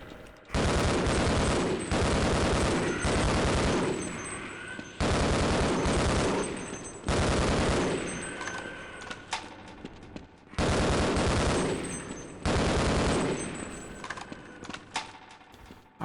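Rapid bursts of gunfire from the Half-Life video game, loud and close, arriving in several long dense volleys separated by brief pauses.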